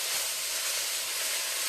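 Meat sizzles in a hot pan on the stove, a loud, continuous bright hiss with no pauses and nobody speaking over it.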